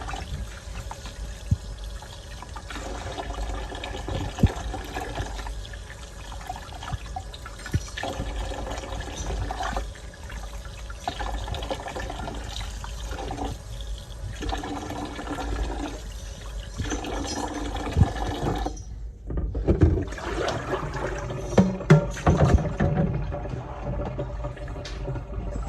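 Water pours and splashes steadily from a kitchen tap while beef steaks are rinsed, a continuous close wash that breaks briefly near the end before resuming with uneven splashing.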